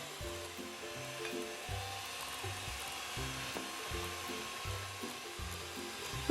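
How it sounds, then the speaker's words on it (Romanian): Electric hand mixer beating eggs into cake batter for chocolate cream cookies, a steady whirring drone with rhythmic pulses as the beaters move through the bowl, close and continuous with no talking. "Adăugăm extractul de vanilie și ouăle unul câte unul și mixăm în continuare."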